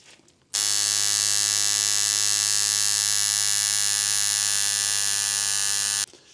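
Coil tattoo machine running steadily, a loud, continuous buzzing hum with a dense harmonic whine that starts abruptly, holds even for about five and a half seconds, then cuts off.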